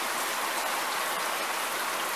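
Water pours steadily into buckets being filled on a green rural property, a continuous broadband splashing rush with no pauses, close and fairly loud throughout.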